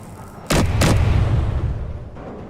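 Heavy weapons fire in Space Engineers: two loud, close booming shots in quick succession, followed by a long rumbling tail.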